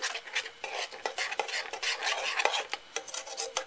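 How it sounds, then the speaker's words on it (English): A utensil stirs sour powder into a gummy candy mixture, making quick, rhythmic scraping and clinking against the bowl, close and fairly quiet with no voices. "we'll mix the sour powder in"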